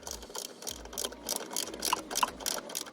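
A ratchet undoing a bolt on a Ferrari 355 engine during a timing belt service. It gives about seven bursts of rapid metallic clicking in a steady back-and-forth rhythm, close to the microphone and moderately loud, with no speech.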